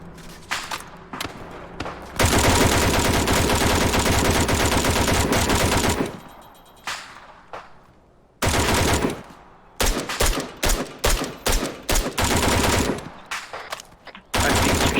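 Rapid automatic gunfire in a video game during a boat infiltration training match, loud sustained bursts separated by short pauses, with several quick volleys near the end and no talking.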